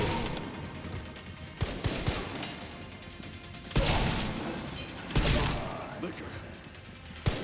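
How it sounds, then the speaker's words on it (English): Shotgun blasts in the Resident Evil Requiem video game, a few heavy booming shots spaced several seconds apart over a busy background of game noise, with a voice talking throughout. "Shotgun."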